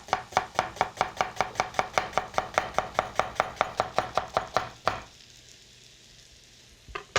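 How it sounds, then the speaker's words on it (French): Knife slicing a red onion very finely on a board: about two dozen quick, evenly paced chops, close and crisp, ending in a quiet pause and one last tap. "Alors, je vais trancher ça très finement"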